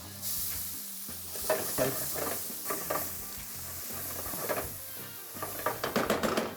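Shallots sizzling in butter and oil in a pan, a steady frying hiss with repeated scraping stirs and clinks of a utensil, close up; one brief word is spoken.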